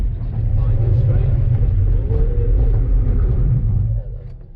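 Mazda MX5 engine droning and revving steadily while sliding in a drift, a loud low rumble from inside the car that drops off near the end, with a voice talking over it.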